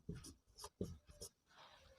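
Marker or chalk strokes on a board during a chemistry lesson, a quick series of short scratchy taps in an uneven rhythm, close and fairly faint.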